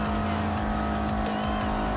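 An MR2 race car in Gran Turismo Sport drives at speed with a loud, continuous engine drone and steady road roar that holds without a break.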